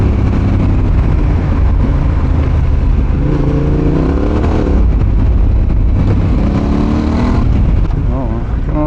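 A Yamaha Tenere 700 (T7) motorcycle being ridden off-road, its engine droning loudly throughout and rising and falling in pitch with throttle changes and gear shifts, while a rider talks over it.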